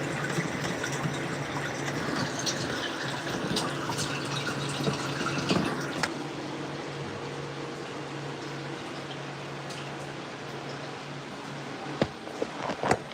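Water trickling and dripping through an aeroponic growing system, a steady soft wash of running water with a few faint drips near the end.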